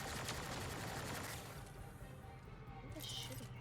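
Sustained automatic gunfire in Mass Effect: Andromeda, a dense rattling barrage that starts loud and close, then eases slightly before swelling again, with chatter from a player mixed in.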